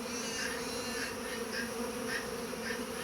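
Honeybees buzzing around an upper hive entrance while bringing in pollen, a faint continuous hum of many insects with individual bees droning past now and then.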